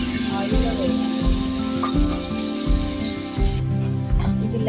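A paste of garlic and spices frying in hot oil, heard as a moderate sizzle with soft repeated stirring scrapes at a steady rhythm, nearby and unvoiced.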